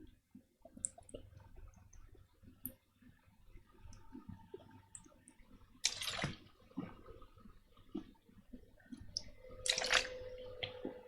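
A man takes a drink of water: quiet scattered clicks and two sharper clinks of a drinking vessel, close and soft, with no talking.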